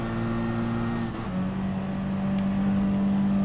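Roadster S race car in the GT Sport racing game, its engine note droning steadily with a brief dip partway through before settling into a sustained higher whine, loud and continuous.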